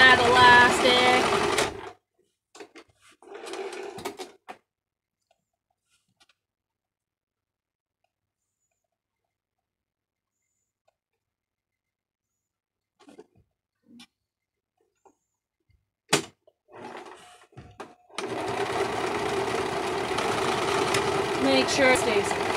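A sewing machine top stitches over elastic, running in a fast steady hum in two bursts, one at the start and a longer one at the end, separated by near silence and small handling noises.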